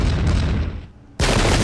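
Musket volley in the Pike and Shot Campaigns strategy game: a dense burst of overlapping gunfire booms, a brief quieter gap, then a second loud crackling volley.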